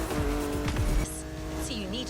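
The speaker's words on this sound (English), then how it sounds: "Good thing you're driving the 1969 Camaro Z28." A 1969 Camaro Z28 roars through a Motorfest race, engine droning with tire squeal and skidding sweeps, then the engine tone rises and shifts, under a voice talking throughout.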